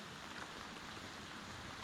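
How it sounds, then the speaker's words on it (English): Monsoon rain falling at night in Maui, a steady dense hiss of drops on surfaces with no letup, fairly faint and even throughout. "Now, check out the monsoon."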